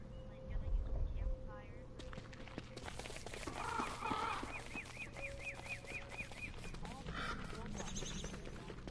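Gobbling, fowl-like bird calls from a video game set in a desert with tumbleweeds, heard as a rapid repeated warble at moderate distance under game ambience and someone talking.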